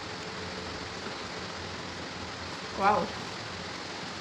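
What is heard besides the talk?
heavy rain falling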